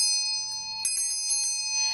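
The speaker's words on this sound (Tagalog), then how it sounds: "ito pong ating bell na nagtataboy ng malas at nagwo-welcome ng swerte" A small lucky bell, kept to drive away bad luck and welcome good fortune, rings close and clear in a single sustained peal with bright, shimmering overtones that slowly fade, with no talking.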